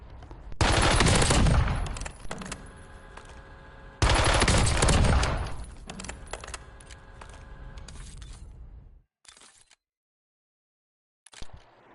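Two long, loud bursts of automatic fire from a customized gun in Call of Duty: Warzone, each a few seconds of fast continuous shots, followed by softer mechanical game sounds, a brief silence and a short final burst.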